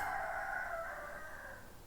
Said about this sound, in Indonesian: Ayam lagi ya